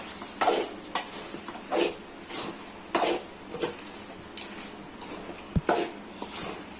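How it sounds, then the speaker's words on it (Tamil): Chicken being stirred into masala in a pot for a country chicken curry: a spoon scrapes and knocks against the pot in irregular strokes, close and moderately loud, with no talking. "சிக்கனை இப்போ மசாலாவோட கலந்து விட்டுக்கலாம்."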